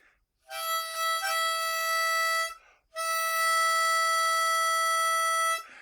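A single sustained reedy tone from a key of C harmonica, played on hole 5, held steadily, pausing briefly then resuming, clear and close with no talking.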